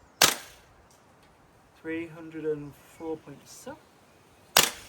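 A VFC 416 airsoft rifle fires 0.3 g BBs through a chronograph: two sharp, loud single shots about four seconds apart, with someone speaking briefly between them.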